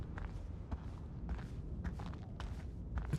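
Other players' footsteps in the video game Eclipsium, a run of soft, fairly quick steps spread across the clip under a low rumbling background, with no talking.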